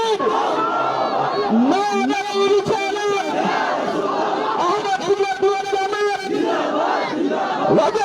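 A large crowd at a Sunni madrasa gathering at Rajarbagh Darbar Sharif, Dhaka, roars Allahu Akbar back to a takbir call, with loud massed voices shouting in unison and sustained throughout.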